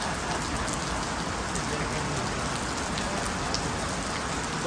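Rain pouring down steadily, a dense even hiss of drops striking surfaces, loud and close with no pauses or other sounds.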